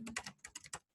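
Rapid bursts of keystrokes on a computer keyboard, close and fairly loud, typed in quick clusters with a short pause near the end while coding a simple Python input-output program.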